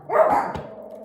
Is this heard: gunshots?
no